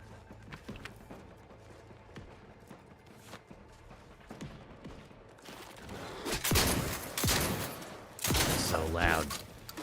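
Rifle gunfire in The Outer Worlds 2 sounds out as a run of sharp shots that grows into louder, closely spaced bursts toward the end, with game sounds mixed in.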